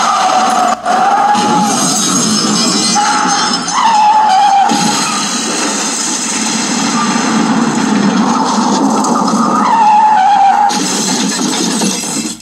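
A sheriff's car skids with squealing tires and roaring engine before smashing through a store front, loud and continuous with repeated screeches and a rumbling crash.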